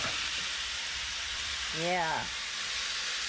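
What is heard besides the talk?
dark soy sauce sizzling in hot pan for fried rice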